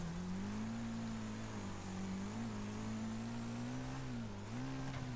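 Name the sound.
Hammerhead RS race car engine in video game Wreckfest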